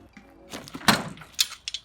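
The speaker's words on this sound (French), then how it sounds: "on passe la porte" A door being pushed open and passed through inside an abandoned building during urban exploration, a short scraping creak followed by a solid thunk and a couple of lighter knocks, close by with no talk.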